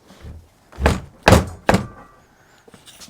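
A garage door pulled shut in gusting wind during a 1979 Chevrolet C10 repair, three heavy thunks in quick succession, loud and close, followed by quieter rattles.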